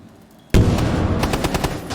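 A loud, close burst of rapid gunfire erupts after a brief quiet, with several sharp shots in quick succession during a competitive Rainbow Six Siege match.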